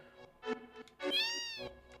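A cat meows in the Final Fantasy VII video game, two or three short, clear mews followed by a longer drawn-out meow, close and moderately quiet against silence.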